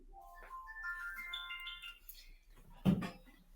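A phone's ringtone goes off during a call, a short melodic run of tones sounding alone at moderate volume, followed by a sharp knock or thump near the end.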